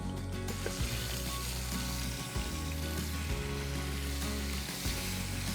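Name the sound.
fish frying in a pan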